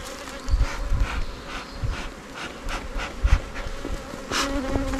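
Honey bees buzzing at a hive entrance being smoked during a spring honey harvest, a dense steady drone with individual insects swelling past the microphone and a few soft thumps.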